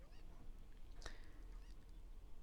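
Cucco chickens in the video game Zelda: Ocarina of Time give faint, brief squawks and clucks, with one sharper cry in the middle, over a soft steady background hum.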